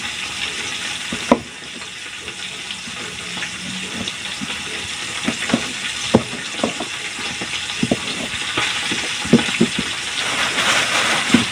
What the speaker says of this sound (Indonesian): Ini digoreng aja sambalnya ntar ya.